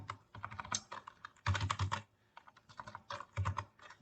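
Rapid bursts of keystrokes on a computer keyboard, clustered in quick runs with short pauses between them, close and clear, as a command is typed into a command prompt.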